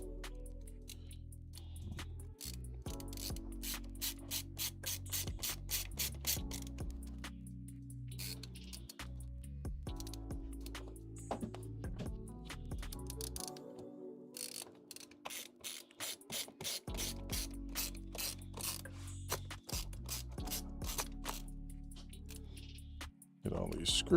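Screws being driven back into a laptop during a repair, a string of quick ratcheting clicks from a screwdriver in bursts with short pauses, close by, with speech between the bursts.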